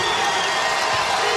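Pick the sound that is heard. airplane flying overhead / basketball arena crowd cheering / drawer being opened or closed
basketball arena crowd cheering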